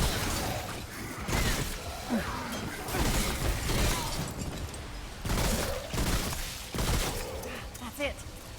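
Rapid gunfire bursts in the video game Remnant: From the Ashes, sharp volleys clustered together during a chaotic fight, mixed with impacts and whooshes, with someone talking over parts of it.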